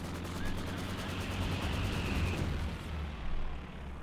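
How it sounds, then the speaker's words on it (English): Katyusha rocket artillery firing in Company of Heroes 2, a dense rolling barrage of rapid whooshing launches and crackling bursts over a low rumble, with a final louder burst near the end, no talking. "Got the Katyusha firing in."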